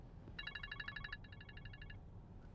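An electronic telephone ringtone chirps in two bursts of rapid repeated trills, fairly faint over a low room rumble, in a house on Cottage Hill Road in Mobile, Alabama.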